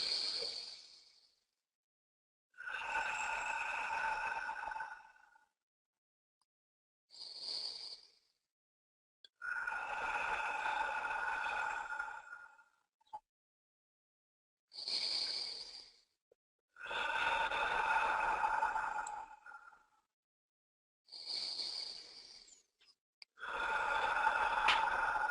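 Four long, deep breaths drawn in through the nose and released during a guided goal-visualisation session, each slow airy inhale and exhale rising and falling in a steady rhythm with quiet pauses between, close and fairly soft, no talking.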